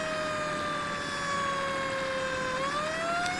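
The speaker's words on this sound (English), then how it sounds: "We'll turn off our sirens, and I really do like using those sirens. They are pretty loud" Fire truck siren in Farming Simulator while responding to a tent fire, a steady loud wailing tone sliding slowly down, then rising again near the end over a low engine rumble, with no talk.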